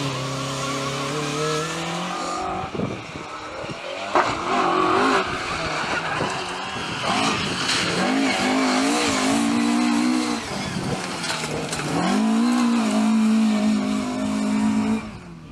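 A Mark I Ford Escort Mexico rally car races flat out on a historic rally stage in Mid Wales, its engine howling loud and close through rising and falling revs as it shifts gears, with tyres scrabbling on the surface.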